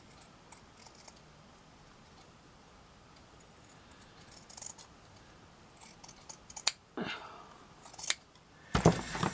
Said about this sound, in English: So I've got to cut this as straight as possible.